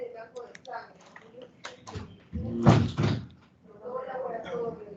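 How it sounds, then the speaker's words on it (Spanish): An indoor door bangs shut with a short, loud thud around mid-clip, surrounded by people talking before and after. "ciérrame la puerta"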